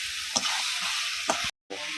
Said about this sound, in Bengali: মাংস দিয়ে কষা শুরু হয়ে গেল।